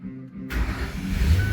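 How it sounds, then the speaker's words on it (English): A 2012 Ford Thunderbird engine cranks and catches after a relay replacement, a sudden start that settles into a loud, steady close-up idle with a rising rev. "Car runs now."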